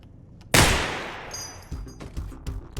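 A Desert Eagle pistol in the video game Receiver 2 fires one sharp, loud shot with a long decaying tail, followed by a few quieter clicks and mechanical clatters.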